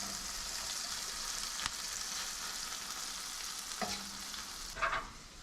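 Melting cheese sizzles steadily in a hot frying pan while a torta is being built, a continuous bright crackling hiss with a few soft clicks of a utensil, close and even throughout, no voices.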